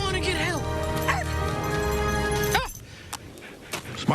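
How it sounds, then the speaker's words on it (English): Dog whimpering and yelping with high wavering cries during a TV commercial, close and loud for a couple of seconds before a sudden cut to quieter scattered noises. "Smart dog."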